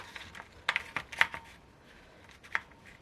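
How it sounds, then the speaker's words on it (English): A Stampin' Up detailed trio corner paper punch snaps through card in a few sharp, close clicks spaced irregularly, with soft handling rustle between them and no talk. "we had the detailed trio corner punch"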